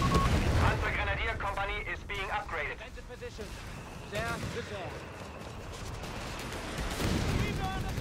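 An anti-tank gun salvo in Company of Heroes 3 sounds as a few heavy, booming shots under a busy battle din, with a commentator talking over it.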